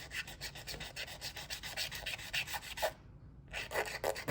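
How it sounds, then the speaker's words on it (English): Wet and dry sandpaper rubbed against a tyre on a Carrera NextGen NASCAR slot car, producing fast, steady rasping strokes close up that stop briefly and then resume. "nothing a bit of sandpaper can't fix"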